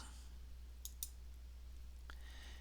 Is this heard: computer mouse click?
yes